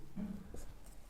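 Pen on paper writing by hand in a classroom-style lesson, a short scratchy stroke followed by a few light marks, faint and close.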